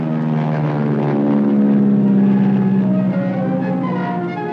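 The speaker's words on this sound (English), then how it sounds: "Aircraft from the carriers streaked low overhead." Low-flying carrier aircraft in 1945 pass overhead with a loud, steady propeller-engine drone that swells to a peak and then slowly fades, with no voices.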